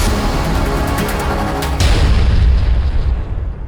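A cannon booms as a shell is fired on a crowd in Paris, one deep, loud blast that rolls out into a heavy rumbling tail and fades.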